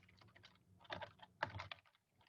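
Bursts of computer keyboard typing, clustered keystrokes in quick uneven runs with short pauses, close and fairly quiet, no talking.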